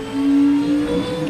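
A Falcon FG race car in the Project Motor Racing video game winds up through the gears, its engine droning loud and close in a steady rising whine with no talk over it.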